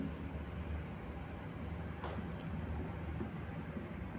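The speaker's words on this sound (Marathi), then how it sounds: "मी इथं लिहितो." Chalk or marker scratches across a board during a maths lesson on probability distributions, quiet, with soft strokes under a low room hum and a brief sharper stroke midway.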